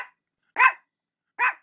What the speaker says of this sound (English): She's a little mouthy dog.